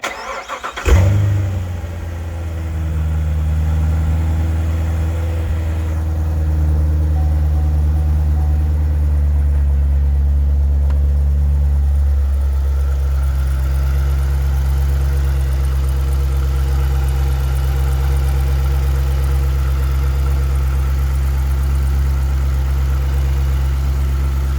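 A Corvette C7 Z06 with its LT4 engine fires up after a brief starter crank and settles into a steady, deep, loud idle that holds nearly unchanged for the rest of the time, with no one talking.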